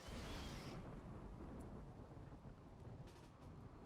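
A lightning strike in RimWorld lands with a loud crackling burst, then a broad rumbling roar that slowly fades over a few seconds, with no voices over it.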